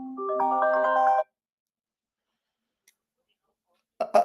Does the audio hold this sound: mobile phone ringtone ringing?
yes